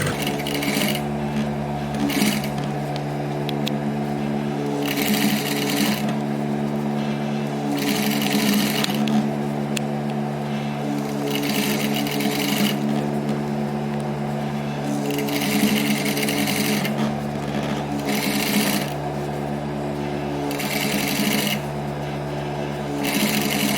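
A sewing machine stitches a hem on children's clothing in a steady close whir, its motor humming continuously while the needle chatter swells and eases in regular bursts.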